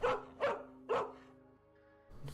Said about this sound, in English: we have a dog barking